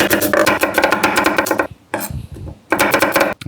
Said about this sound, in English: I'm going to dice a half an onion